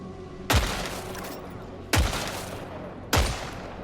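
Three loud, sharp shots from the Sidearm Disciple Revolver in the video game Killing Floor 3, spaced over a second apart, each with a booming decaying tail.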